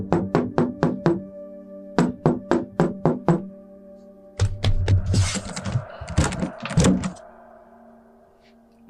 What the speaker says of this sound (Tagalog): May mahinang katok sa pinto.